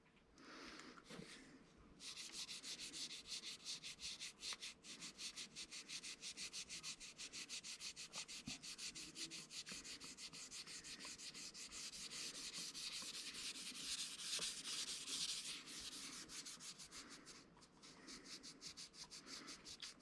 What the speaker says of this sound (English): And here we want to sand and blend into our heel